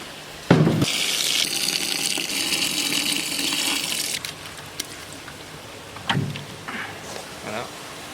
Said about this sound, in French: on va rajouter le même volume en eau